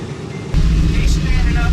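The engines of the B-17 Flying Fortress bomber "Nine O' Nine" roar in flight, a loud, heavy, steady low drone that cuts in abruptly after a quiet start, with a voice mixed into the noise.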